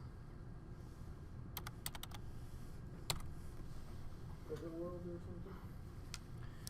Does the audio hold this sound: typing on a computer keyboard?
yes